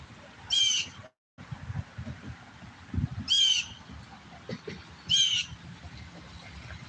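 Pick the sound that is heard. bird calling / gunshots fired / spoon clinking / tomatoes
bird calling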